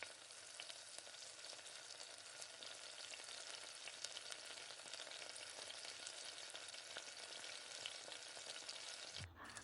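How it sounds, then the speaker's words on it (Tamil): Onion, cumin and fennel sauté in hot oil with spluttering mustard seeds in a pan, a loud continuous dense sizzle throughout that cuts off abruptly near the end. "ஒரு பாத்திரத்தில் இந்த மாதிரி எண்ணெயை விட்டு நல்லா சூடானதுக்கு முன்னாடி கடுகு நல்லா பொரிஞ்சு வர்றப்ப வெங்காயம், சீரகம், சோம்பு எல்லாமே போட்டு நல்லா வதக்கி விடுங்க."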